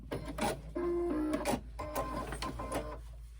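A Brother Innovis F420 domestic sewing machine stitching a handbag, running in steady whirring bursts with brief pauses and speed changes, close up and fairly quiet.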